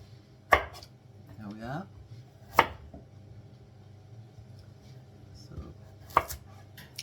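A very sharp Arcos knife from Spain chops vegetables on a board in a home kitchen, three sharp isolated knocks spaced a couple of seconds apart, with a brief spoken remark between.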